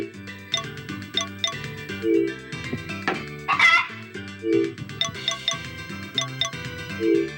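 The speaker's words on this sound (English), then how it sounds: "the chicken loves me so much that I can hit her 20 times with a hammer" Cartoon chicken clucks from the Harvest Moon: Back to Nature game, struck repeatedly with a hammer, with bright chiming game effects and a looping melody playing throughout.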